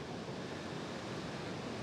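Ocean surf rolls continuously beyond a grassy foreground, a steady broadband wash of waves mixed with light wind, fairly distant and even in level with no voices.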